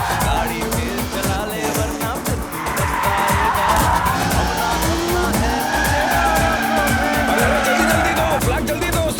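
A car in a racing action movie skids loudly as it is spun around, with a long continuous tire squeal over a roaring engine that stays near and intense throughout.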